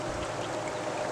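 Water flowing steadily through a gate clogged by a beaver, a faint continuous trickling rush with no voices.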